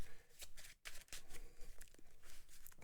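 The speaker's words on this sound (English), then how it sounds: "Big old shuffle here" Cards from a G.I. Joe deck-building game are riffled and shuffled close by in quick repeated rustling bursts, with no talking.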